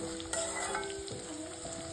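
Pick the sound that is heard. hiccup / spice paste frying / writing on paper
spice paste frying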